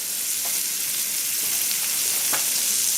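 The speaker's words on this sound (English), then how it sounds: "now I have my 1/4 cup of butter that I'm putting in there to melt" Butter melts and sizzles in hot frying oil with a steady, dense crackle that holds at an even level throughout, with a few faint clicks on top and no voices.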